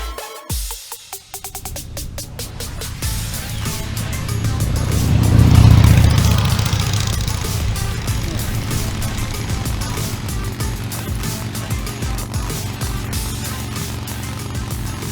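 A motorcycle engine bogs down on a ride, its rough, uneven rumble swelling to a loud peak before sagging into a labored, sputtering drone over wind noise, with no talk.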